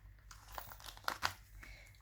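Rolls of washi tape handled at a craft table, giving soft, close crinkling and rustling with a couple of sharper crackles in the middle, quiet and brief.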